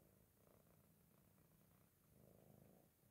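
A small cat purrs quietly on a person's lap indoors, a soft, steady low rumble at close range with no talking, ending in a sudden brief bump.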